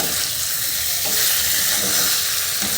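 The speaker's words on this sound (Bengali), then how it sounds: "আরও 2-3 মিনিট আমি মশলার সাথে কষিয়ে নেব পটল" Pointed gourd stir-fried with spices in a hot pan, giving a steady, loud, close sizzle with faint stirring scrapes throughout and no voice.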